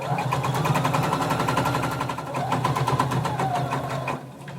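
A sewing machine stitches fabric in a fast, even mechanical chatter, close and steady, slowing briefly midway before running on and easing off at the end.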